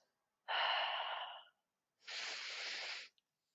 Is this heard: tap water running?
no